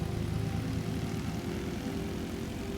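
In Microsoft Flight Simulator, the propeller engines of a BN-2 Islander roar at full power for takeoff, a loud, steady, droning hum with a throbbing low buzz throughout.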